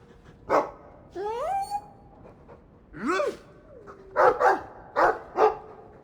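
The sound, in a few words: dog barking in video game Dragon Age II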